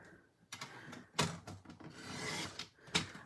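Card stock is trimmed for a handmade fall scene card, giving a series of short scraping, slicing strokes with brief pauses between them, close and fairly quiet.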